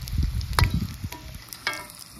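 Food sizzles and crackles steadily in hot cooking oil, with intermittent scraping and stirring clatter from a utensil, recorded up close in a home kitchen with no voices.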